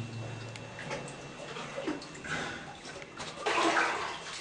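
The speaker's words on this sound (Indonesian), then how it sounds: "kita bisa lihat di sini ada aliran sungai bawah tanahnya" An underground river flows through Ciguha cave, a steady close rush and gurgle of water echoing in the passage and swelling louder toward the end.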